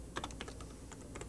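Typing on a computer keyboard, a quick run of soft, close key clicks in an irregular burst, quiet and steady with no voices.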